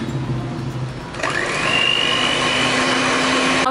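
An electric hand mixer starts up and whirs loudly and steadily, beating an egg into a creamed butter and sugar mixture for a pound cake batter, with no talking.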